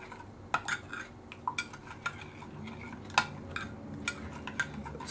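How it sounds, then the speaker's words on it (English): A metal spoon stirs brown sugar in a bowl, giving scattered clinks and scrapes against the bowl over a soft gritty rasp, close and moderately loud with no talking. "I'm going to use my handy dandy spoon here. And since it's the sugar, I'm going to just start mixing it"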